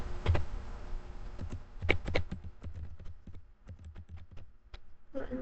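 A computer keyboard being typed on to enter a Linux terminal command, close and fairly loud, with irregular bursts of crisp keystrokes and short pauses, ending on a slightly heavier tap.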